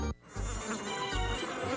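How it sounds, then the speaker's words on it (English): Buzzing of mosquitoes from a TV-drama scene, a steady insect whine with a few louder fly-by swells over a low background, heard alone with no talk. "Mosquitoes."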